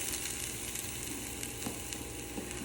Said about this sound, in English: I'm going to let it saute on medium heat for about a minute